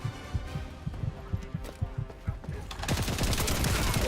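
Grenade and gunfire in the Warframe video game, rapid thudding impacts in a steady rhythm that swell into a loud, dense burst of explosive noise at the end.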